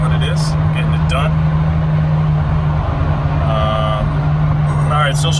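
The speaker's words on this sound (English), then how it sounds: "Sound is probably not that great because the McLaren's kind of loud" A loud McLaren car runs close by with a steady low engine drone, and someone talks over it throughout.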